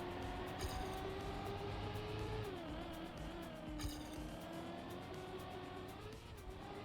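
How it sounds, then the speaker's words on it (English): Racing-game car drifting on icy tires, a continuous engine drone with wavering pitch as it slides through a turn, punctuated by brief rattling bursts, steady and close. "Drift turn."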